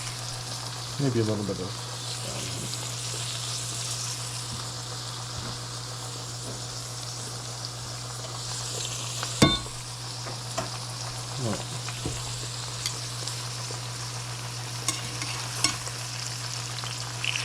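Ginger and garlic sizzle in oil in a pan with a steady, close frying hiss, broken by occasional stirring scrapes and clinks while a person talks now and then over it.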